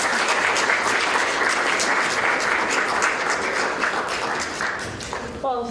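Audience applause welcoming Dr. Fiona Hill to a talk on US-Russia relations: sustained dense clapping from a large crowd, steady throughout and tapering slightly near the end.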